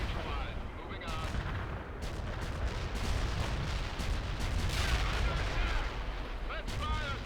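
Battlefield gunfire in the strategy game World in Conflict, dense booming artillery and rattling bursts layered continuously at close range, with occasional radio-style voice chatter underneath.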